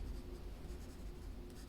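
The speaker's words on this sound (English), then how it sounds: "we're gonna grab the yellow and I'm gonna color in the crown here" A yellow colored pencil scratches steadily across paper, coloring in a drawn crown with close, soft, continuous strokes that are quiet and even.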